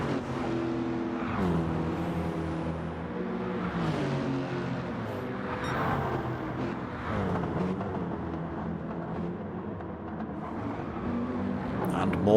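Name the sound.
Lexus GT3 race car driving at Bathurst in a racing game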